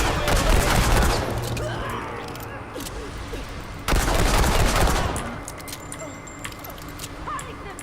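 Rifle fire in the shooter Remnant 2, loud sustained volleys of rapid shots crackling close by, with a brief lull before another heavy burst and then sparse metallic clicks and mechanisms; a voice talks underneath.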